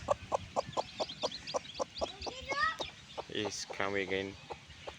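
Newborn backyard chicks cheep in thin high peeps alongside a rhythmic run of close, regular clucks, with someone speaking over the later part.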